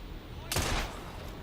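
A single short gunshot burst in Assassin's Creed Syndicate, a sharp broadband crack with a brief low boom, heard once against a faint background.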